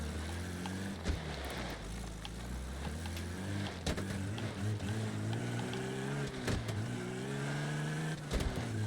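Car engine running in the video game Mafia: The Old Country, a steady low hum that rises and falls in pitch as the car drives and shifts, with a few sharp knocks.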